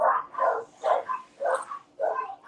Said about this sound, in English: The doggos want to act belligerent tonight.